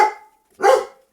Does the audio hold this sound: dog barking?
yes